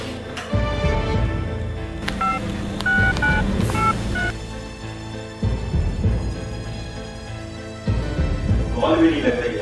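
A mobile phone sounds short electronic dialing beeps while placing a call in a forest, mixed with rumbling background noise and other sounds, and voices come in near the end.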